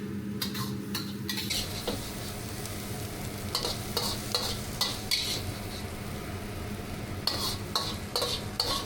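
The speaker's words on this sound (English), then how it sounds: "After adding the salt and the soy sauce, stir-fry for a short while" Vegetables stir-fried with salt and soy sauce clatter and scrape in the pan, a spatula striking repeatedly in an irregular rhythm over a steady close sizzle.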